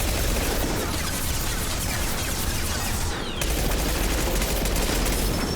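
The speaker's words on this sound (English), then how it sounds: "First, it uses its rapid-fire machine gun." Rapid machine-gun fire from a boss enemy in the video game Mass Effect 2, a dense, continuous fusillade running loud throughout with a brief dip near the middle.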